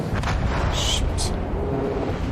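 Warship guns firing in World of Warships Legends, deep rumbling booms with a few sharp crackling bursts, loud and dense under a continuous low battle roar.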